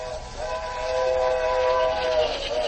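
A train sounds a steady, droning whistle that holds for a few seconds over a rumbling, hissing background, with no voices present.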